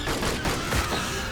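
A brief, loud burst of concentrated rifle fire from a squad of marines in Aliens: Dark Descent, a dense rolling volley with no voices.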